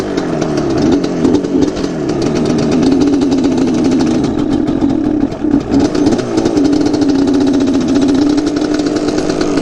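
A Yamaha Banshee quad with a dirty air filter and dirty carbs runs steadily after a kick start, its two-stroke engine buzzing loud and close with slight uneven wavering throughout.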